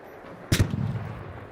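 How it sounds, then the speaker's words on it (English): A single sharp gunshot from an ARC Raiders match cracks out loud and close, then a booming echo rolls and fades across the room. "There was a gunshot that came across the room."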